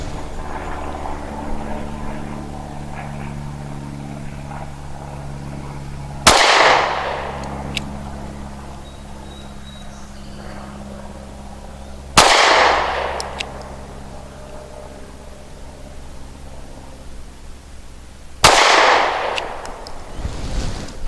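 Three loud, sharp gunshots from a SCCY CPX-2 pistol at target practice, spaced about six seconds apart, each with a fast crack and a short ringing decay over a steady low background hum.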